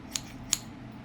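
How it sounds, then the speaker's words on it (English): A brand-new pair of scissors snips twice while gift wrapping, two crisp, bright cuts about 0.4 seconds apart, close against a quiet room. "I have a brand new pair of bougie scissors from Target"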